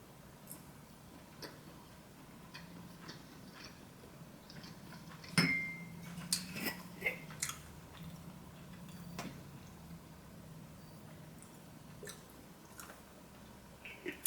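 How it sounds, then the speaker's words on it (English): Jumbo shrimp eaten close to the mic, with sharp crunchy bites on the shrimp heads followed by soft squishy chewing and a few light clinks, spaced out with quiet pauses between. "I'm just gonna eat the shrimp, the inside of the shrimp, and probably bite on a few of the heads"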